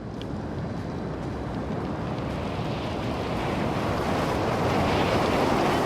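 Storm on Regis III in The Invincible, with howling wind and crashing waves forming a dense, steady roar that builds gradually in loudness.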